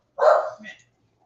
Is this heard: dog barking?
yes